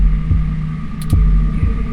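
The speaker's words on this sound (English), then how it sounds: "Your heartbeat is like sonar to me. The louder it pounds, the faster I race to stop it." A pounding heartbeat from the video game 2064: Read Only Memories: a few deep, evenly spaced thumps beat under a steady low electronic hum, with a brief high shimmer partway through.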